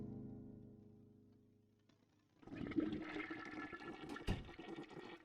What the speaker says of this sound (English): Sorry, it was a double flusher.